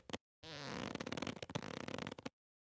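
Squeaky, flatulent-sounding creaks of a leather couch or chair being stretched, a short burst of rubbing squeals and groans lasting about two seconds, close and isolated.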